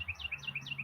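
A bird chirps outdoors on a mild morning, a quick run of bright repeated notes that comes through clearly, fairly near but soft.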